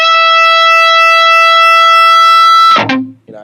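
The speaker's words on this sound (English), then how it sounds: "if you just bend a note" A loud, distorted electric guitar note rings steadily, then bends and warbles near the end before cutting off abruptly.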